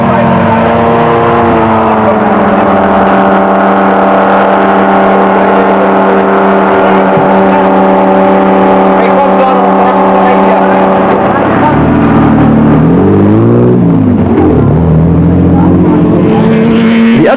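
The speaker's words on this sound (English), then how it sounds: "the roar of thundering engines, the off-road boys were being sorted from the men." Off-road rally engines from a Pajero team and a Toyota roar loud and close at the Baberspan 500, a steady droning growl that rises and falls in pitch near the end as a vehicle surges past, with narration over it.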